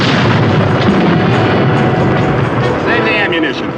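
A tank gun fires in a radio drama sound effect, a loud, heavy booming barrage that rumbles on continuously under a voice.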